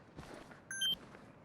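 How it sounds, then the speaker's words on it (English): A short synthetic beep from an Arma 3 VoiceAttack profile, a single clean electronic tone lasting a fraction of a second over quiet room noise. "So that's the beep, that's the new beep."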